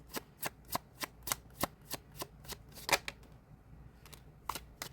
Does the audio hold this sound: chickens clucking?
no